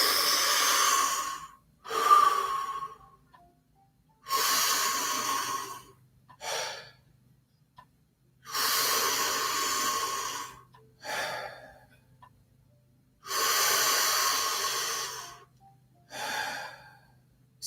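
Slow, deep breathing during a Wim Hof breathing round: long, full inhales and shorter exhales repeat in a steady, unhurried rhythm, close and clear against silence.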